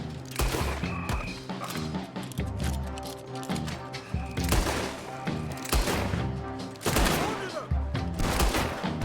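Gunfire from guns in Red Dead Redemption 2: sharp shots and bursts ring out in irregular clusters, some loud and close, over game sounds and background noise.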